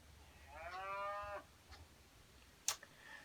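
A single cow lets out a drawn-out, fairly close moo lasting about a second, followed by quiet ambience and a brief sharp click.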